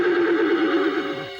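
A cartoon horse whinnies in one sustained, bright neigh with a wavering pitch, loud and close, lasting over a second with no other sound around it.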